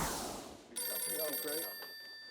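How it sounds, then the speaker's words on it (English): An office telephone bell rings late at night in a 1940s-detective-style scene. A short, bright ring starts after a quiet, murky opening, lasts about a second and then fades into a fainter tail. "The phone rings with a mysterious voice on the other end of the line"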